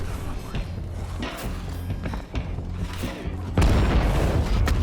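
Gunfire in the zombie survival game State of Decay 2, several sharp bangs scattered through a noisy scene, ending in a louder sustained burst with a faint voice underneath.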